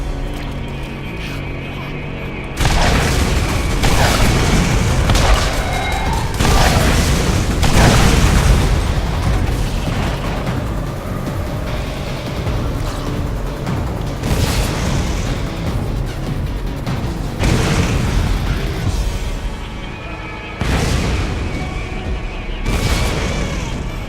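Rocket explosions boom repeatedly in Borderlands during a vehicle fight on the Dahl Headland, loud blasts layered over a constant roar of engine and combat noise with a few brief breaks.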